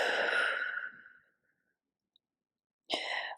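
A long, audible exhale during a yoga stretching session, breathy and close, fading out over about a second, followed by silence and then the start of another breath.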